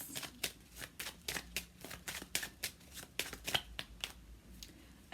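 Tarot cards being shuffled and drawn by hand, a run of crisp, close papery riffles and snaps in an uneven rhythm, with no voice over them.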